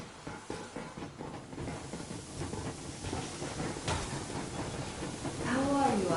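In the video game Metro Exodus, a steam train gets underway with a broad hiss and a rolling, rumbling clatter that builds slowly. A voice cuts in briefly near the end.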